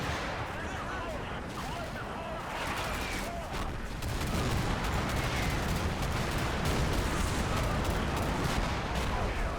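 Sustained crackling gunfire and distant booming volleys pour down on units in a military strategy game battle against a Marine Expeditionary Unit, a dense, continuous barrage with no break.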